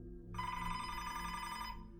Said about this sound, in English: His phone was ringing at his desk,